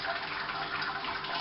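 Water pours steadily into a Robobrew brewing system onto grain, a continuous close splashing rush with no pauses.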